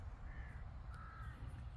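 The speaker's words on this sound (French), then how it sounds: "Vous allez peut-être entendre le bruit des oiseaux." Crows caw outdoors beside a canal in open countryside, two faint drawn-out calls carrying over a steady low wind-like rumble.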